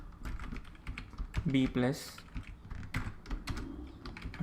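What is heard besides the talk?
typing Python code on a computer keyboard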